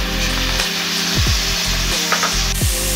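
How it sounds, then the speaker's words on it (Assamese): Bamboo shoots frying in hot oil, giving a close, continuous dense sizzle with several sharp scraping strokes of stirring spaced through it. "খৰিচাখিনি তেলতে ভাজি দিওঁ।"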